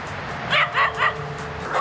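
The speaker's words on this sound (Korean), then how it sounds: "제작진을 경계하듯 격하게 짖는 녀석들." A male and female pair of white dogs bark fiercely and warily at a film crew outdoors, three sharp close barks in quick succession and another starting at the end over background rumble.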